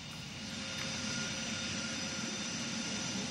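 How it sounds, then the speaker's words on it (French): A jet airplane lands at Orly airport, its engine roar a steady, broad, sustained rumble that swells slightly and holds throughout, heard from some distance with no talk. "l'avion est en train de se poser"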